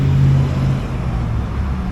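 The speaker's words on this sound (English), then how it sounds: "There's not been a lull in traffic the entire time I've been here filming." Heavy traffic on a busy road beside a courthouse square, a steady loud rumble of passing cars with low engine drone throughout and no pauses.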